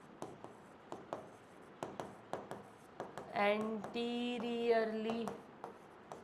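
Marker or chalk strokes on a board during a biology lesson, a series of short sharp scratches at an uneven rhythm, briefly overlapped by someone speaking.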